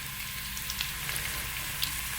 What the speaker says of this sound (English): So I've got some onions, carrots, celery, broccoli and potatoes. Let me throw them in.